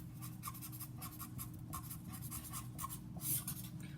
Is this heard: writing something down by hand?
yes